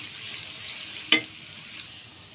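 Chopped medium-sized onion frying in a pan until golden brown, a steady soft sizzle with one brief sharper crackle, heard alone and fairly close.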